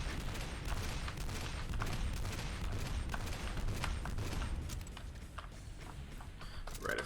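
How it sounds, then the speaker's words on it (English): Dense, continuous gunfire and combat noise from the video game Doom 2, with a sniper rifle in play, a loud steady barrage that eases slightly near the end. "Right, I forgot they had a sniper rifle still."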